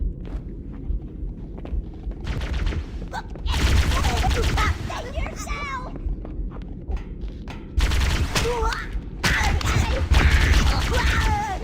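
Enemy grunts fire rapid bursts of guns in a first-person shooter game, with sustained volleys of gunfire and shuffling footsteps, loud and close, in several dense stretches separated by quieter moments.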